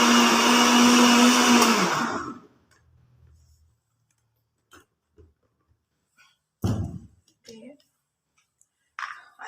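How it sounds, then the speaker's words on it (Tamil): A kitchen blender grinds apple and grape juice with seeds left in, a loud steady whir for about two seconds that then cuts off, leaving quiet clicks and taps afterward. "இப்போ அரைக்கிறேன்"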